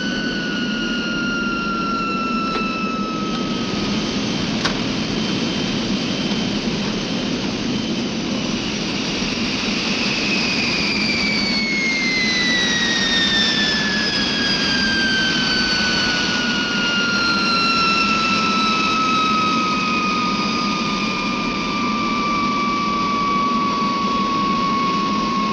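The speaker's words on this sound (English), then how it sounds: "Nice landing." A jet airliner landing with its flaps down, engines roaring loud and close throughout as their whine slides steadily lower in pitch, with no voices.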